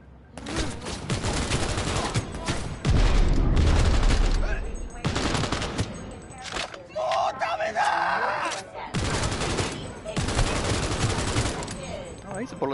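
Bursts of automatic gunfire in Cyberpunk 2077 rattle loud and close in repeated volleys, with short pauses between bursts and some game sound in the gaps.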